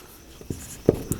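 Pen or marker writes out a trigonometry formula, producing short scratchy strokes that come in a few quick bursts close by against quiet background.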